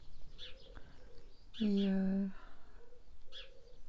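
Small birds near an open Velux skylight window of a workshop give soft chirps and cooing calls in the background, while a person speaks briefly in the middle, the voice louder than the birds.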